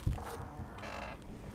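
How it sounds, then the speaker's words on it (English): A squeaky chair gives a short, faint, drawn-out creak after a soft thump, its strained squeal wavering for about a second. "Do you hear the squeaky chair?"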